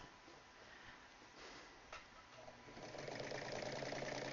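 A home sewing machine runs steadily at low level, its motor hum rising slightly toward the end, with no voices over it.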